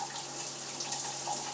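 A gentle, steady hiss of a low-flow shower running in a tiny house with a varnished floor, a soft continuous spray at moderate level with no talking.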